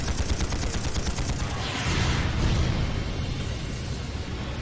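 Sustained rapid gunfire and explosions pound armored tanks at a guerrilla fortress military training ground in the video game Trails of Cold Steel, dense and loud throughout with a heavier burst of booms midway.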